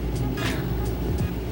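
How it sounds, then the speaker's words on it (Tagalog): Tricycles and other vehicles pass on a nearby road in the Philippines, a steady low traffic rumble with a brief swelling pass, heard alongside indoor room sound. "Kung mapapansin nyo, may mga tricycle pa kayong naririnig. Mga sasakyan kasi malapit lang kasi kami sa daanan."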